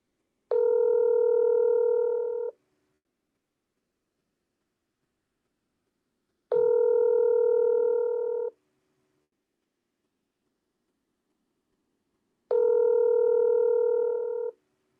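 A telephone ringback tone sounds while calling back a caller, with three identical two-second electronic rings at six-second intervals separated by silence, clean and steady.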